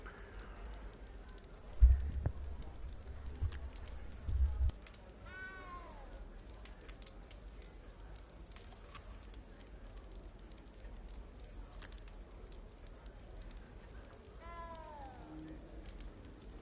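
Small frightened cat in Hogwarts Legacy meowing, a couple of plaintive rising-falling meows spaced apart over quiet ambience, with brief thumps early on.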